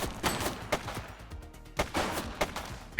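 Gunfire in The Precinct video game: several sharp, loud shots ring out at irregular intervals, some in quick pairs, over a busy background of game ambience.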